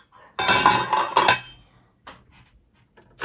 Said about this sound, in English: let's remove the lid